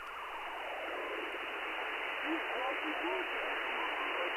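A military radio signal recording plays as a steady band-limited hiss of static, with faint warbling tones surfacing partway through, constant in level and alone.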